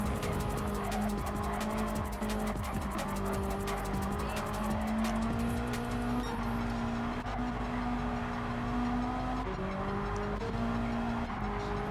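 Race cars lapping a track in Gran Turismo Sport during a league feature race, engine notes rising and falling with gear shifts and occasional tire squeal, loud and sustained, several cars overlapping.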